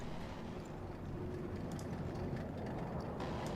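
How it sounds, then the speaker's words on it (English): A steady, broad roar from the Me 262 Schwalbe jet engine in the War Thunder video game, constant and fairly quiet with a faint rumble and no talking. "Okay, that's Schwalbe's engine."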